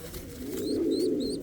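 A small bird chick gives soft pigeon-like cooing with a few thin rising chirps above it, close and clear, lasting just over a second.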